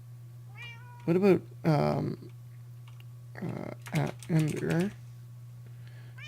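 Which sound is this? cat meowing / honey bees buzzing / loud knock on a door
cat meowing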